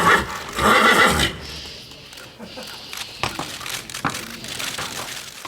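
A nervous Lipizzaner horse from the Lipica stud gives a loud, close whinny at the start, followed by hoof clops and shuffling handling noises.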